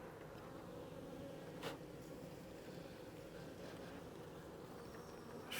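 Honey bees swarm and buzz around an opened hive during a queen cage release for brood blocking, a dense steady drone filling the whole stretch at close range.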